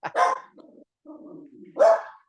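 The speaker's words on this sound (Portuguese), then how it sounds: "É que tudo que se movimenta aqui fora, ela late." A pet dog gives two sharp, close barks with a low growling grumble between them, all within a couple of seconds and with no one talking over it.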